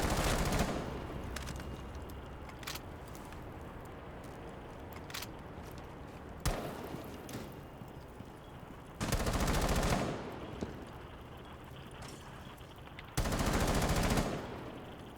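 Gunfire in a first-person shooter video game: loud bursts of automatic fire, several long sustained volleys mixed with scattered single shots, heard up close against a steady background.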